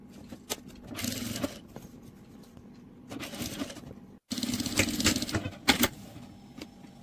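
A sewing machine stitching a cloth purse made from scrap fabric, running in short bursts of whirring, rattling stitches separated by pauses and light handling clicks, close and fairly quiet.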